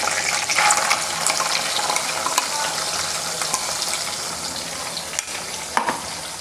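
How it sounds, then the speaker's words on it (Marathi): Cumin seeds sizzling in hot oil in a village-style kitchen, a loud, dense, continuous frying hiss close up, with a few sharp crackles and pops. "आता ह्याच तेलामध्ये परत 1 चमचा असे जिरे टाकणार आहे"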